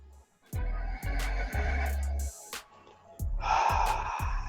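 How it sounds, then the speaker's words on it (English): Several slow, deep breaths are taken in a guided stress-relief meditation, each a soft, close inhale or exhale, separated by short pauses. "Let's take a deep breath"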